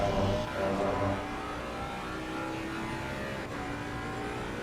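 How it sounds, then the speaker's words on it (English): Aston Martin race car in Assetto Corsa Competizione at Misano, its engine roaring loud and steady under hard driving, revs rising and falling through corners with no talk. "Chris is just throwing that Aston Martin around this track."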